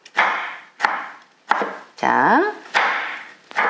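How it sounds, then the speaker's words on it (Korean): Ripe tomatoes with stems removed are diced into cubes on a cutting board, with five or six sharp knife chops in an uneven rhythm, close and clear, and a short spoken word at the start. "도마도는 이렇게 잘 익은 도마도를 꼭지를 따셔서 깍둑썰기를 하시면 돼요"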